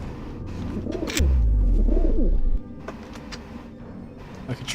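Pigeons coo twice in a Deus Ex game level, soft rolling calls in the middle distance over a low hum and scattered clicks.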